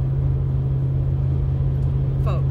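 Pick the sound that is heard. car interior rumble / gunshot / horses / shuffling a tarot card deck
car interior rumble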